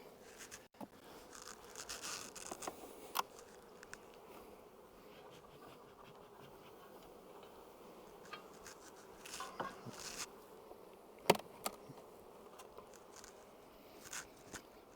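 Honey bees hum and buzz steadily around an open beehive during a spring hive inspection, a soft continuous drone with occasional louder passes and faint clicks from hive handling.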